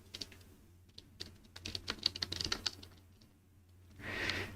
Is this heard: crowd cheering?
no